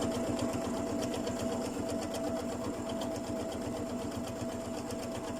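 A sewing machine stitches an invisible zip in a steady, fast, even run of close mechanical needle strokes with a faint motor hum, heard up close and alone.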